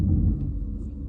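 A 1992 Cadillac Eldorado rumbles low as it pulls off on a short drive, a steady close engine hum with no voices.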